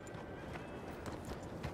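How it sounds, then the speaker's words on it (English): A player's bonded level 4 horse trots along in Red Dead Redemption 2, its hooves clip-clopping in a steady rhythm that sits close and moderately loud over a dense background of ambient game noise. "Feels good to be back on my level 4 bonded steed"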